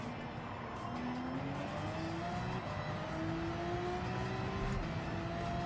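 A race car in a racing game holds a steady engine note that climbs through the gears, with a faint tire squeal as the rear slips on a corner exit during a time trial lap.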